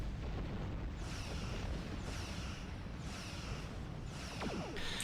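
A steady, rumbling roar of explosions from space combat in the video game Star Trek Online, with dense, continuous booming and a few sharper bursts near the end, heard without speech.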